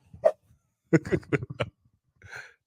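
Dogs give a few short, close yips and barks separated by pauses, with no other sound around them.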